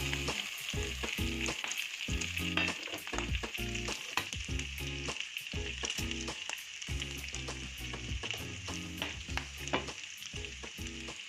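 Chorizo, capsicum, onion and garlic fry in a pan for a traditional Spanish dish, with a steady loud sizzle broken by frequent scraping, clattering stirs close by and no talk.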